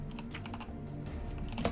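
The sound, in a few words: typing on a computer keyboard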